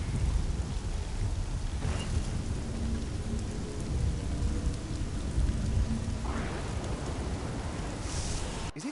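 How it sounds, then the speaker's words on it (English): Steady heavy rain pours throughout a Diablo III game scene, with low rumbling thunder rolling underneath and brighter splashes swelling near the end; no one speaks. "I think it's the thunder"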